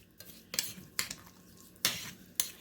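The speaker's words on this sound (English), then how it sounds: "Then we're gonna mix it all together really good." Appetizer ingredients are stirred and mixed together, with about five quiet scraping, clinking strokes spaced irregularly with no voices.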